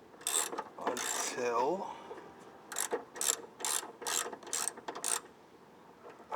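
A ratchet clicks as it turns the rear shock top bolt on a Jeep Cherokee XJ, bursts of close, sharp metallic clicks in an uneven rhythm, with a brief spoken word and a scraping rub early on.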